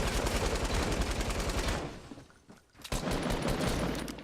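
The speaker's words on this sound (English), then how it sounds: "He's got a heavy shotgun." In the video game Fortnite, a heavy shotgun is involved in a dense clatter of gunfire that breaks off in a short lull and then resumes with loud, rapid bursts. No voices are heard.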